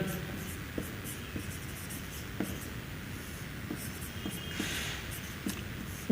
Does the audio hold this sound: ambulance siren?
no